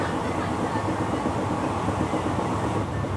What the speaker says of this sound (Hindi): जोधपुर से लगभग 31 किलोमीटर की दूरी तय करने के बाद हमारी ट्रेन स्किप कर रही है असारा नाडा रेलवे स्टेशन को